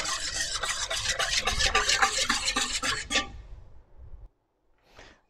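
A utensil stirring sugar and yeast in a bowl for croissant dough, heard as steady rhythmic scraping and swishing close up for about three seconds, then tapering off into near silence with one brief faint scrape.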